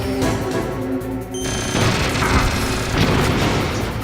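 Rockets from Metal Gear Rex bursting in Metal Gear Solid on PS1, a loud run of booming explosions that rumble on continuously, with a sharp new blast partway through.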